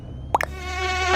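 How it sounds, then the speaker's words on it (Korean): A fly buzzing close in front of the face and glasses inside a light aircraft cockpit, a steady whining hum rising over the engine drone after a couple of brief thumps. "파리 한 마리가 지금 얼굴 안경 앞에서"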